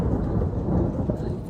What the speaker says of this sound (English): It's thundering a lot